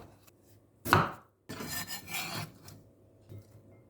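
A knife slicing a peeled carrot diagonally on a board, one sharp crunching cut followed by a longer scraping, rasping stroke and a faint final tap.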